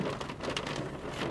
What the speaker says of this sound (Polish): To teraz sobie trochę pojedziemy w deszczu